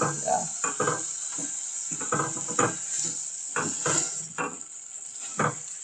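Traditional vegetables with tomato sizzling in a pot in a Kenyan kibanda, a steady close frying hiss broken by repeated bursts of stirring and scraping, with no voices.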